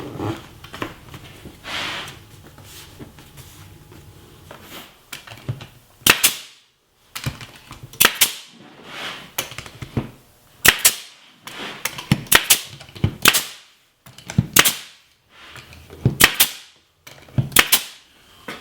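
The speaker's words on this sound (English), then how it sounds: "all I need to do now is attach the molding with a nail gun" Pneumatic nail gun firing brads through molding into a wall panel, a series of sharp, loud clacks spaced irregularly, some in quick pairs, with quiet handling noise between shots.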